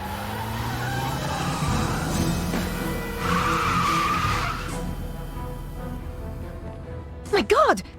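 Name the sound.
sports car skidding past in the video game Broken Sword 3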